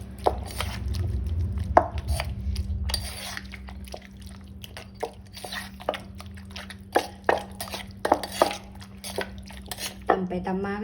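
Thai-Lao home cooking with fish and shallots: irregular dull pounding knocks in a mortar, scattered sharp hits and pauses, close by, with a low steady hum underneath.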